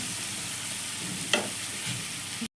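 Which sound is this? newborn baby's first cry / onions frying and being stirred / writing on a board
onions frying and being stirred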